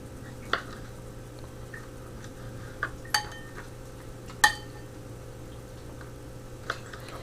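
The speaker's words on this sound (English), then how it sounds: "So that's how I'm going to cut it up." A knife cuts bitter melon on a board, giving a few sparse, sharp clicks and taps spaced irregularly over a low steady hum.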